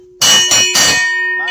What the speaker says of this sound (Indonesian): Kalau udah denger bel beruntun begitu, kamu harus segera pakai pakaian lari dan kumpul